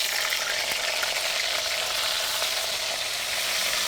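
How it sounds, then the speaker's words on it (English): Cauliflower pieces frying in mustard oil in a wok make a loud, continuous, dense sizzle that stays steady throughout with no talk. "Now I will stir and fry this."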